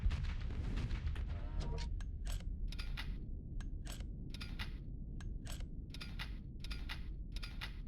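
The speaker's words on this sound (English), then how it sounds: "It's literally revolver. Okay, that's why it's 6 shots." A revolver-type ship weapon in the Starsector space game fires a rapid run of sharp, punchy shots, each followed by short metallic clicks, with a sustained rumble from the first blast underneath.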